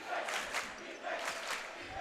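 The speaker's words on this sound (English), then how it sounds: "very, very active Goffstown cheering section this here" Goffstown student cheering section at a boys basketball game against Nashua North, chanting and yelling in rhythmic surges, several loud crowd bursts rising and falling in a gym.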